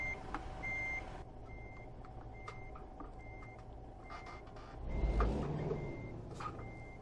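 Steady reversing beeps from a semi truck backing up in American Truck Simulator, evenly repeating tones over a low idling engine rumble, with a brief hiss of air brakes near the end.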